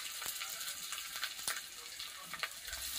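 Spice powder fries in oil in a home pan, a faint, steady crackling sizzle with occasional sharp pops and a soft stir near the end.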